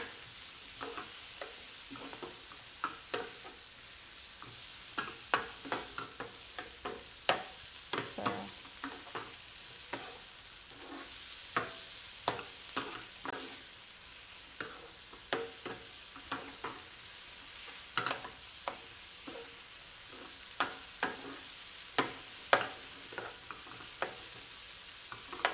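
A seasoned bruschetta topping is stirred with salt and pepper in a bowl: quiet, irregular wet scrapes and clicks of a utensil repeat steadily, with no voices.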